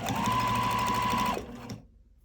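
A sewing machine runs steadily, stitching a zipper into a Sew Together bag, with a continuous high whir and motor hum that stops abruptly after about a second and a half, then a brief faint tail.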